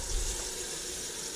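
Water runs steadily into a bucket in a farm kitchen, filling a bath for thawing frozen grass-fed beef roasts; a continuous broadband rushing hiss, close and fairly loud, with no talking.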